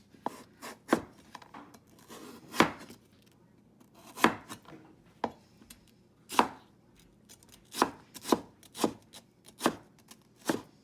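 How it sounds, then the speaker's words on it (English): A knife chopping watermelon rind into thin strips on a cutting board, sharp distinct thuds coming in irregular bursts, some in quick pairs, close and clear with no talking. "just make it into strips like this, thin strips"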